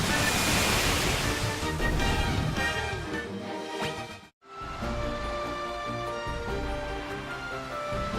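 Steady ocean rush of a ship sailing at sea in the retro video game Final Fantasy 1. Broad wave-like noise fills the clip, cuts out for a brief gap, then resumes.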